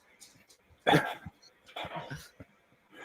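Someone's dog lets out a few short barks nearby, mixed in with people talking and laughing.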